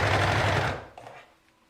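A sewing machine stitches a long maternity skirt in a rapid, loud, continuous run that slows and fades out after about a second, with no talking.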